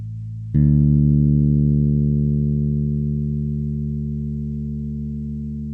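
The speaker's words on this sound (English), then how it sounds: "Let's hear the D string, which is the third note down from the top." The open D string of a bass guitar is plucked, sounding a low, sustained note that rings clearly and decays slowly, with no talking over it.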